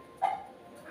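A pet dog named Tommy waiting for dosa gives a single short, sharp bark or yip close by, followed by quiet room noise.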